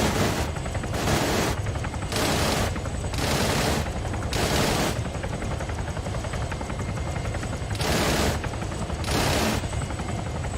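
Aircraft cannon bursts in a combat flight training simulation, six or seven loud, harsh rattling volleys of about half a second each, spaced unevenly over a steady engine drone, with no speech.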